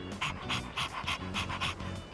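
A dog panting in the video game Persona 3 Reload: quick, rhythmic breathy puffs, about eight of them in steady succession, close and clear with no talking.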